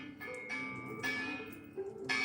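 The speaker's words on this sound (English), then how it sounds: "The bell is designed to ring like a wind chime." A bell designed to ring like a wind chime sounds faint, repeated bright metallic tones in light, overlapping strikes that ring out and linger at a distance.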